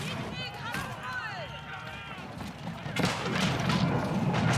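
Mangonel siege shots in an Age of Empires 4 battle, with dull thuds and impacts over a busy mix of combat noise and in-game sound effects, while a commentator talks throughout.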